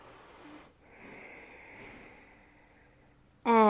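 Slow, audible breath drawn in and let out during a hip and quad stretching routine, a soft airy rush lasting a few seconds with faint background noise, ending abruptly in a louder burst.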